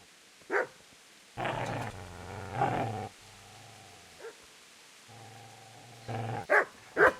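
A dog growls and barks in the medieval role-playing game Kingdom Come: Deliverance, with low rumbling growls broken by several sharp barks and a short whimper, close and clear with no talk over it.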